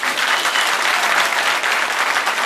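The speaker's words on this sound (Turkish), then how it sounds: "Teşekkür ediyoruz alkışları için de" Audience applause for a singer at a Kurdish music performance: dense, steady clapping from a crowd filling the whole stretch at even loudness, with no voices standing out.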